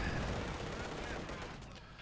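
Anti-tank guns fire in a video game battle, a dense, heavy burst of booming shots filling the whole moment with rumbling low-end weight.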